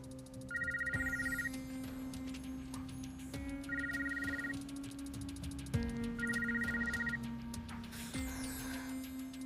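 An incoming call sets a phone ringing in repeated electronic trill bursts at steady intervals over a sustained tonal background, clear and fairly close, with no talking.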